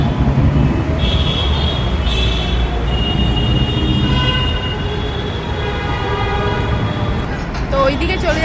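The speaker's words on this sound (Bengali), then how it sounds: "দেখো আমরা এমজি রোডের ওপর দিয়ে হেঁটে হেঁটে যাচ্ছি। খুবই ব্যস্ত রাস্তা।" Loud, continuous traffic on busy MG Road in Bangalore, heard while walking along the street: a dense rumble of engines with scattered horn toots rising above it and voices mixed in.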